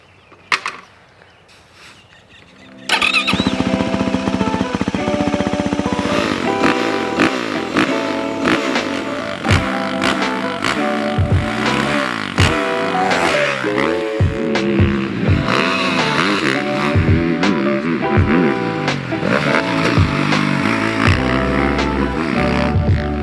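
A 2024 Yamaha YZ450FX off-road motorcycle rides a track and trails, its engine loud and close, revving and shifting in repeated surges after a brief quiet start, with no talking.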